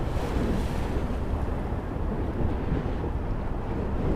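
Steady broadband wash of ocean surf with wind rumble, continuous and fairly loud throughout, no voices.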